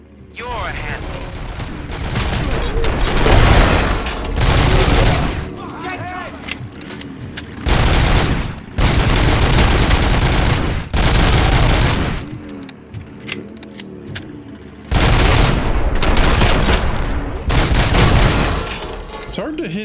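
Gunfire and explosions from the video game RoboCop: Rogue City, loud bursts of shooting in several long blasts with short gaps, plus mechanical clanks and booms, with game dialogue voices in between.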